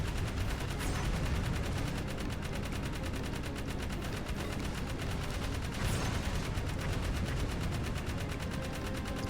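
Rapid automatic gunfire in the Jak 3 video game, dense sustained bursts of shooting filling the whole stretch with no pause and no talking.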